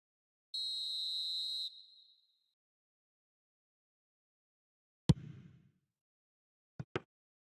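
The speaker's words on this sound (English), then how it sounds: "Added time is up, and there goes the whistle." A referee in the eFootball video game blows the final whistle: one clear, sustained blast lasting about a second, fading out, then a dull thud and two sharp clicks after a long silence.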